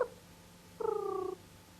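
A human voice imitates a friendly cat's purr, producing one brief, buzzy, humming rumble that lasts about half a second in a quiet room.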